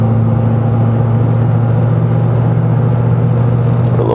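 A tuned 6.7L Powerstroke diesel truck pulls steadily under acceleration, its deep engine drone loud and constant throughout, with no talking over it.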